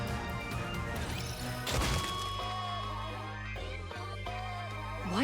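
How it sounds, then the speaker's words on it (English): Guitar smashed in a video game, a loud crash and splintering thump followed by lingering twangs and musical tones, heard against a steady game music background without talking. "Why are you smashing up a perfectly good guitar?"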